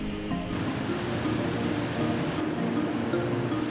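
Victoria Falls on the Zambezi River roaring as a dense, constant wash of falling water, loud and unbroken for several seconds with no voices over it.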